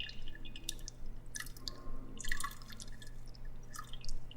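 Homemade liquor made from toilet paper, liquid dripping through a strainer into a container below, with irregular small drips and splashes over a low steady hum, fairly quiet.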